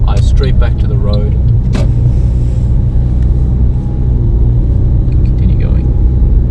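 During a driving lesson near the Greenslopes test centre, a car rolls along the road with a steady low engine and road rumble inside the cabin, while a person talks over it.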